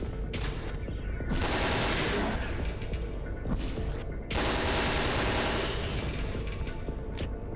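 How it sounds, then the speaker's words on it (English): Assault rifle fired rapidly in Resident Evil: Dead Aim, two dense sustained bursts of automatic fire, loud and close, with a brief lull between them. "having to whip out the assault rifle, just because I need something more rapid fire to deal with these hunters"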